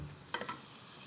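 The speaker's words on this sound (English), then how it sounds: "I'm just gonna give it a stir together with my onions to soften it up" Onions and garlic sizzling in a pan as they are stirred: a faint, quiet fry with a few brief scraping clicks from the stirring, and no voices.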